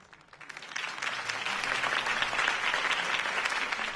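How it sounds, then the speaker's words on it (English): Applause follows a campaign speech in the Batman Telltale video game, a crowd clapping steadily that swells within the first second and holds at a moderate level, heard alone with no voices. "If only Mr. Wayne, my campaign's largest backer, could have heard that applause"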